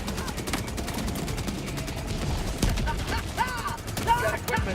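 Automatic machine gun fire in the Helldivers 2 video game, dense rapid bursts layered with other battle noise across the whole stretch, with a voice briefly heard.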